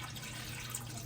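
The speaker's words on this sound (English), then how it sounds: "you can just take the dirty water and just dump it" Dirty water pours out of a Tineco Floor ONE S3 cordless floor cleaner's tank in a steady, soft splashing stream close by. No one speaks over it.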